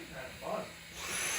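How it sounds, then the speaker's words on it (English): A household vacuum cleaner sucking up a spider gives a steady whirring, hissing drone that rises and grows brighter toward the end, close by and continuous throughout. "Babe, you're vacuuming it?"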